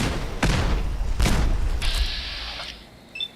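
Gunfire from a Fallout 4 session, heard as two booming shots about a second apart with a heavy low thump, then a sustained mechanical whine and a faint sharp chirp as things settle.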